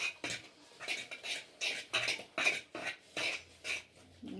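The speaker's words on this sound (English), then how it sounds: "we'll mix everything with a fork" Fork scraping and mixing a bread dough mixture for cheesy rolls in a bowl, a steady series of about nine rhythmic scratchy strokes, close and fairly quiet, with no talking.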